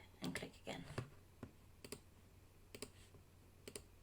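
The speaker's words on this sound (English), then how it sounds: "click and click again" Computer mouse clicks while designing boxes in Canvas Workspace, a handful of sharp, quiet clicks spaced irregularly, some doubled, with a faint voice at the start.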